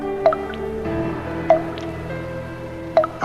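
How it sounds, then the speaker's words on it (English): Blood dripping in the horror film Dracula A.D. 1972, three distinct wet drips spaced about a second and a half apart over a low droning background, close and clear. "love the sound of dripping blood"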